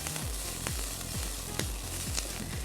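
Peppers sizzle steadily in hot oil in a frying pan, with repeated scraping sweeps of a utensil stirring them at a regular pace, close and fairly loud with no talk.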